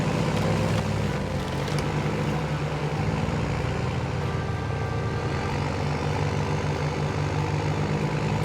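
Steady, dense engine drone of a hovering drone in the snowy, muddy village outskirts of the Expeditions video game, a continuous airborne whir with layered low rumble and faint higher tones holding level throughout.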